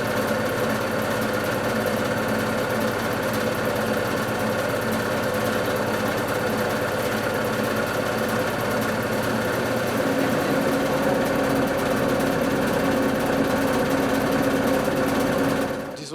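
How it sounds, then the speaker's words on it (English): Many small vibration motors buzz against plexiglass mirrors in an art installation, each running at a different frequency, forming a dense, steady mechanical hum with layered tones that shifts slightly partway through and holds for the whole stretch. "all these plexiglass mirrors, each one has vibration motors. So each vibration motor has a different vibrating frequency."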